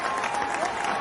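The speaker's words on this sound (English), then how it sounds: "I would like to give you a round of applause" An audience gives a round of applause at a symposium in Singapore, a steady dense patter of clapping throughout, moderately loud and sustained without pause.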